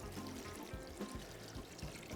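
Water pours into a pot of blanched cabbage in a steady, fairly quiet trickling stream with faint gurgles.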